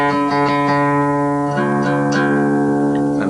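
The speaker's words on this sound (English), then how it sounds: "I'm playing my D string open." Open D string plucked on an acoustic guitar during tuning: a clear, close ringing note with rich overtones, plucked again several times so it sustains and rings on throughout.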